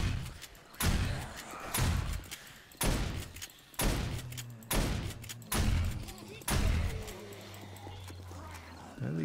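A shotgun blasts again and again at a zombie horde in the game 7 Days to Die, with about eight loud booming shots in a steady, roughly one-per-second rhythm, each trailed by rumbling echoes.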